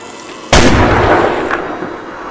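A single loud, booming gunshot sound effect in a Resident Evil story reading, cracking sharply and then rolling into a long echoing tail, with a faint second report afterward.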